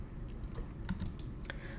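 Quiet computer keyboard keys pressed a few times in a row, soft scattered clicks with low room noise beneath and no talking.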